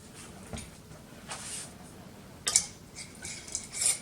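A metal lid and screw ring set onto a glass canning jar filled with homemade chicken stock, giving faint scattered clinks and light metallic taps, one sharper click near the middle.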